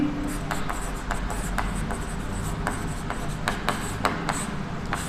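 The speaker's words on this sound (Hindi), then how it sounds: "यहां लिखेंगे" Marker or chalk writing on a classroom board during a graphing lesson: steady scratchy strokes in short repeated bursts, close and moderately loud against a low room hum, with no talking.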